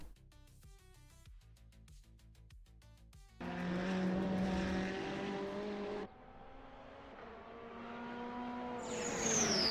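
Ferrari Challenge race car lapping Mugello in Assetto Corsa, engine note rising and falling through gear changes with a loud sustained howl midway, then a high whine building toward the end, no talk.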